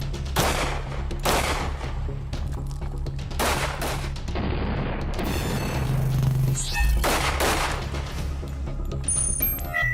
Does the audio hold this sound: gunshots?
yes